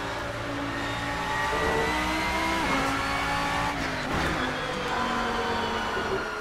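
GT3 race car engine from the Assetto Corsa racing game, steadily loud and revving through gear changes, with pitch sweeps and a brief dip around a shift, tire noise faintly beneath.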